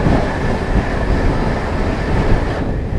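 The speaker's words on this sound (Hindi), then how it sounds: "ये आ गई जी सामने Shri Shakti AC superfast express. पूरी फ्लैट 130 की रफ्तार में है दोनों ट्रेनें।" The Shri Shakti AC Superfast Express rushes past at about 130 km/h, heard from an adjacent train. It makes a loud, continuous roar with rail rumble and wheel clatter that holds steady throughout.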